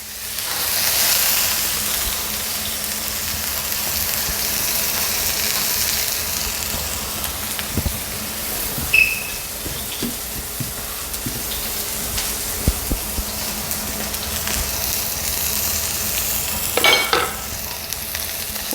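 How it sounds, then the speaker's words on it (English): A filet mignon steak sears in hot oil in a pan, giving a loud, steady sizzle and crackle throughout with occasional clinks and scraping sounds, heard up close and with no voices. "All right, you put the steak down, filet mignon."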